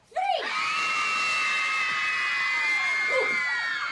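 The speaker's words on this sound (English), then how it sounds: "Everyone, on the count of three, I need everyone to scream." An audience screams together at a live expo event, a sudden loud shared burst of high shrieks that swells in and holds steady for several seconds, with scattered individual yells trailing near the end.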